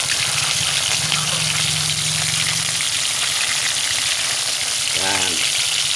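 Ingredients for ginataang langka, jackfruit in coconut milk, fry in hot oil with a loud, continuous sizzle and crackle, while a brief low voice comes through partway.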